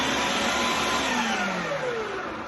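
An electric grinder shreds sugar Easter eggs, a loud steady motor whine with pitch slowly falling as it works, close by, with no talk.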